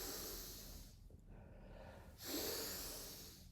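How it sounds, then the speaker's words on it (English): Tummo breath work as forceful, close breathing: one strong, hissing inhale or exhale, a quiet pause, then another loud rush of air, breathy and near the microphone. "So this time we're going to do our breath work in and out."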